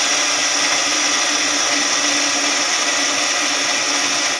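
Electric grinder whirring steadily as it grinds fennel seeds into powder, a loud continuous buzzing motor that runs without a break from start to end.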